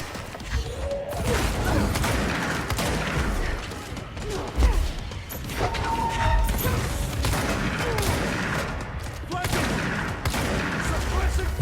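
Gunfire in the video game Control fills the stretch with dense, rapid bursts and crashing impacts, loud and near, continuing almost without pause, with a few faint vocal sounds mixed in.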